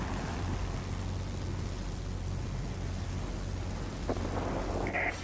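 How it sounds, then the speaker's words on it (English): Thunderstorm weather in the World of Warplanes flight game: steady rumbling rain and low thunder roll throughout, loud and continuous, with a brief crack near the end. "A line of thunderstorms is approaching."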